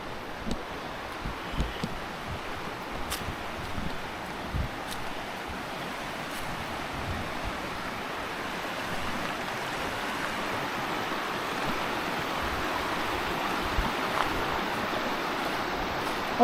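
A creek flows steadily in Ricketts Glen State Park, a continuous broadband wash of running water that stays even and fairly close throughout, with no talking.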